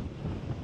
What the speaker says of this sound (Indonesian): Dan ada ini bukti betapa kencangnya angin Jeju